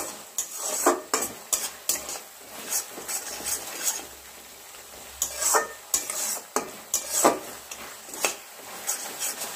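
A spoon scrapes and stirs spice paste with sugar sautéing in oil in a pan, giving irregular clinks and scrapes over a soft sizzle, close and fairly loud with no talking.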